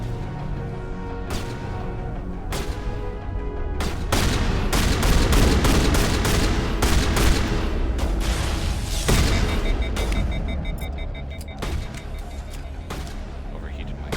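Rapid weapon fire in the Mass Effect video game crackles in dense bursts and single sharp shots over a steady rumbling combat backdrop, loud and continuous, with a voice talking at times.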